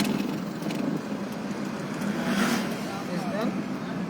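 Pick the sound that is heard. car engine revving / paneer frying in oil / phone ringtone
car engine revving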